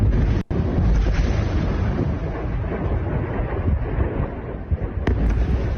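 Explosions from Israeli missile strikes on Hezbollah sites in Lebanon roll on as a continuous heavy rumble with deep booming, loud and sustained across the whole stretch, with no voices.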